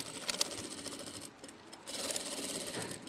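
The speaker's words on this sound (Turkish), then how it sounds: "Germe dikişi yapıyorum şu anda." A sewing machine runs a stretch stitch, a steady fast mechanical whir with rapid needle chatter, briefly pausing midway before resuming, close and moderately quiet with no talking.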